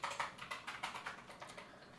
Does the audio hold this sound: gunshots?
no